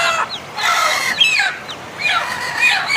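Newly hatched chicks and hens make high, thin peeping and clucking calls in quick overlapping bursts, close by and moderately loud, with no talking.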